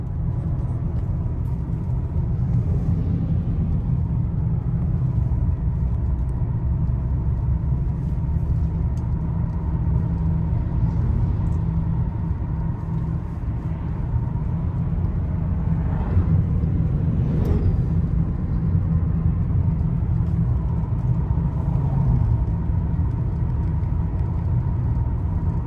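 Steady low rumble inside a car driving on the road, a constant engine and tire drone heard from the cabin with no talk, broken only by a couple of faint brief knocks.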